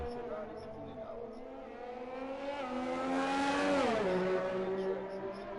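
Ferrari race car in a racing video game pulling out onto the Baku circuit, a steady engine drone climbing in pitch and then dropping as it shifts, heard over a continuous background.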